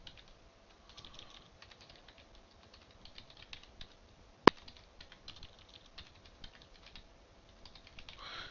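Quiet, scattered keystrokes on a computer keyboard tap along in irregular bursts, broken once midway by a single sharp click.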